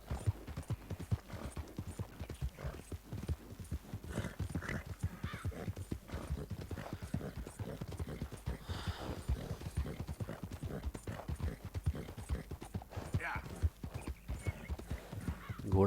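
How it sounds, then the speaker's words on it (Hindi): Horse hooves clip-clop steadily through a Red Dead Redemption 2 game scene as dusk falls, with occasional neighs and whinnies rising above the continuous rhythmic footfalls. "घोड़ा भी थक गया है"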